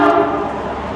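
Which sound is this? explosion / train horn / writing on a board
train horn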